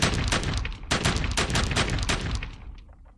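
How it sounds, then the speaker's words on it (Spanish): Revolvers fired by pursuing Mexican Empire cavalry under moonlight, a dense rapid volley of overlapping sharp shots, loud and close, thinning out toward the end with no voices over it. "disparando sus revólveres"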